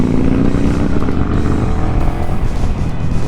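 Motorcycle riding along a road in the Thüringer Wald, a loud, close, continuous engine drone with rushing wind and shifting pitch.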